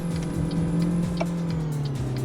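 A modded truck in American Truck Simulator drops a gear as it climbs, its engine note droning steadily and close with a slight shift in pitch partway through, no voices over it.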